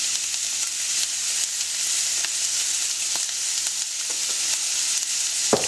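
Carrots and other vegetables precooking in olive oil in a pan, giving a steady bright sizzle throughout with a few soft clicks and stirring touches near the end.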